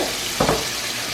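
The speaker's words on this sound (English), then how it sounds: "Be careful when you're putting your pork chops in the oil. Because this oil is hot." Pork chops hit hot oil in a pan, a steady broadband sizzle and hiss throughout with a short burst of crackle as the meat goes in.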